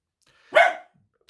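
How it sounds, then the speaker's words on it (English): A dog gives a single sharp bark, close and loud, with near silence before and after, alerting at someone at the door. "there goes the dog"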